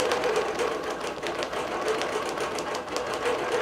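A Bernina Q24 longarm quilting machine stitching steadily with a rapid, even mechanical whir and needle clatter, close and continuous, no voices.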